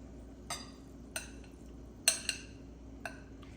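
Utensils clink against a bowl as mixed Korean spicy cold noodles are moved into a cleaner bowl, five or six sharp, faint metallic taps spaced irregularly in a quiet kitchen.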